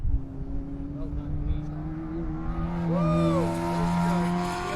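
A race car runs a hot lap at Hallett track, its engine droning and shifting pitch steadily under a continuous rumble, with tire squeal rising near the end and people talking over it.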